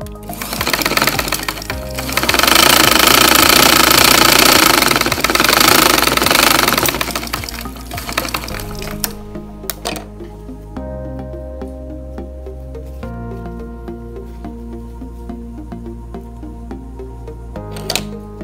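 A sewing machine stitches the side edges of a two-ply surgical mask. The needle rattles fast and loud, drops to a lighter run, then stops and starts in short bursts.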